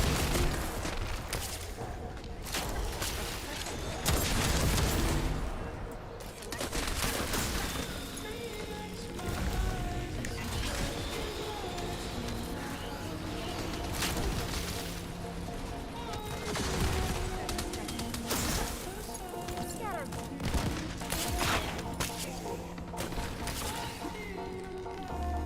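Gunfire in The First Descendant video game: dense, continuous rattling bursts and booms from weapons in a busy combat mix, loud and unbroken throughout, with voices occasionally heard beneath.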